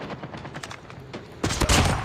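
Gunfire from an SPR 208 marksman rifle in a video game, several shots spaced by a short delay, with a louder, denser burst of reports near the end, all close and without talk.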